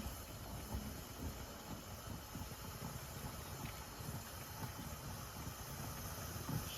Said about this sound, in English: it will keep steaming until it's reached pressure, and then the vent will shut